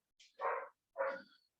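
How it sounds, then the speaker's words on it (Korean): A dog barks twice outside a window, two short muffled woofs at a distance, faint and alone. "이렇게 개가 짖죠?"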